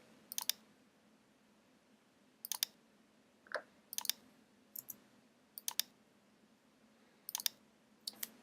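Sparse keyboard key presses in Chief Architect software, heard as sharp isolated clicks in small clusters spread over several seconds, close and clear against a quiet room, with no talking.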